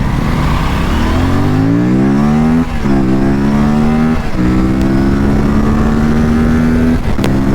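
A new motorcycle's engine is loud and close as the throttle opens, its droning pitch climbing steadily, dropping briefly, then climbing again as the bike accelerates through gear changes.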